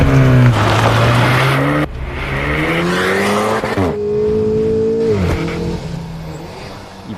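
A modern Alpine sports car engine roars loudly and close, revving hard through several rising gear pulls with sharp drops between shifts and a brief tire squeal.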